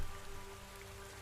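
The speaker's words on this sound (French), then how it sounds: "Et vous entendez donc juste la pluie." Steady rain in a dark tabletop horror role-play scene, a soft and even hiss of drops on a surface, faint and continuous with no voices.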